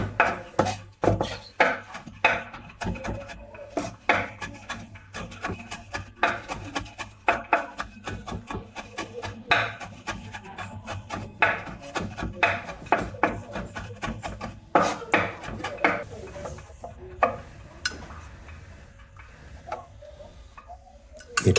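A knife finely chopping fresh parsley on a board for pasta with tuna, a steady rapid series of close, crisp taps that runs throughout and thins toward the end, with no talking.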